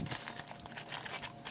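A plastic bag being folded up while a gecko is packed for shipping gives a continuous close crinkling and rustling through the whole moment, with no voices.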